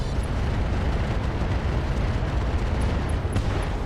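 Weapon fire from an AX and resulting explosions in the mech combat game RogueTech, a dense, continuous rumbling roar of blasts and booms with no talk.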